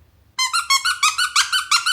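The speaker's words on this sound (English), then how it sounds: "Colin, the caterpillar. Sunny, look, I've got Colin. He squeaks as well." A squeaky Colin the Caterpillar plush dog toy, squeezed repeatedly, giving about seven loud, close, high-pitched squeaks in a steady rhythm, each squeak a short wheezy double note, with no talking.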